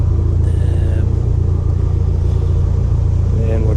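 A 1995 Toyota MR2 Turbo Japanese import idling, a loud steady low rumble close by with a couple of brief higher tones on top, and a voice talking over it.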